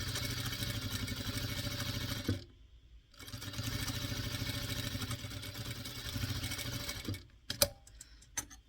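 An electric sewing machine stitching fabric pieces for a handmade snowman doll, a loud, fast mechanical whir that runs, pauses briefly, resumes, then stops with a few clicks and clatters near the end.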